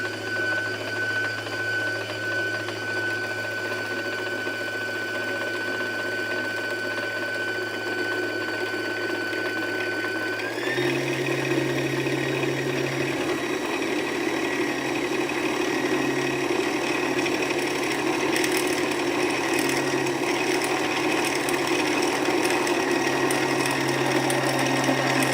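A sewing machine winding thread onto a bobbin, a steady mechanical whir with a constant tone that steps up in pitch and speed partway through, then keeps running with a faint rattle.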